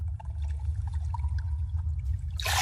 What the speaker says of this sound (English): My hand splashed into cold water.